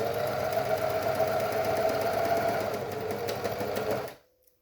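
A sewing machine stitches steadily through fabric with a fast, even mechanical hum that runs for about four seconds, then stops abruptly into silence.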